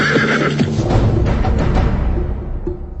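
A horse gives a long, loud whinny as its rider hauls on the reins, the neigh trailing off over a few seconds with soft hoof sounds underneath; no speech.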